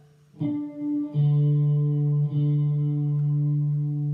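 A single electric guitar D string, in tune, is plucked and sustains with a clear, steady tone, picked again partway through, ringing cleanly with a slight effected shimmer.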